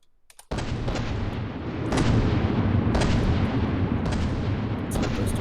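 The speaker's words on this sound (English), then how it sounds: "Quite the deafening firing sounds going on." Loud, continuous barrage of gunfire and heavy booming blasts from robot guns and torpedoes in a video game battle, with sharp impacts recurring roughly every second over a dense roaring bed.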